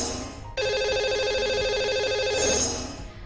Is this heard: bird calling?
no